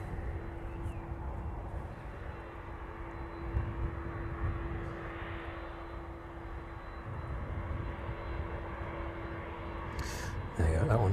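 A jet aircraft taxiing onto its stand at East Midlands Airport in the evening makes a steady, moderately loud engine drone with a constant whine, heard fairly close throughout.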